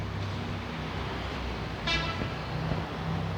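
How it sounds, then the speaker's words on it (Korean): A short car horn toot cuts through steady road traffic noise near the middle, with the rumble of passing vehicles continuing throughout; the honk is brief and fairly close. "차가 밀리면은 밀리는 거지 뭐 저렇게 빵빵거리고 지랄이야"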